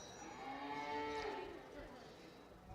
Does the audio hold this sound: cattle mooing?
yes